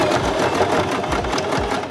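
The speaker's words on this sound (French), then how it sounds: "On va fermer notre rectangle avec la dernière ligne de couture." A sewing machine stitches the final seam closing a rectangular patch on the back of a pair of jeans, with a steady, close mechanical whir and rapid needle chatter running without a break.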